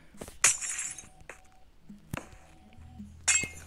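Glass blocks shattering in Minecraft, two sharp bright breaking crashes about three seconds apart, each a tinkling burst, with faint game sounds in between.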